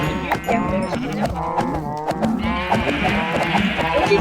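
A crowd of sheep on a farm in the PixWorld video game, with many overlapping bleats repeating close together in a steady, noisy chorus.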